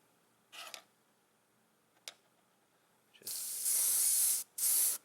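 An airbrush sprays candy metallic paint in two sustained loud hissing bursts near the end, preceded by a couple of short test puffs, close and alone with no talking.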